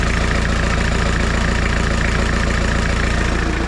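A diesel engine swapped into a Suzuki Samurai idles steadily once warmed up, a close, continuous low rumble with an even chugging pulse and no pauses or talk.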